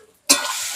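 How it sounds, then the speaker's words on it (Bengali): Ground cumin paste hits hot oil with a sudden loud sizzle that keeps hissing steadily from close by, with no voices. "ভালোভাবে মশলাটা ভালো করে ভেজে নিচ্ছি"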